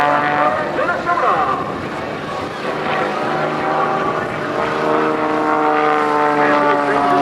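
A Staudacher S-300D aerobatic propeller plane at an airshow roars at full throttle, a loud sustained buzzing drone with shifting pitch as it maneuvers nearby, with a commentator talking over it.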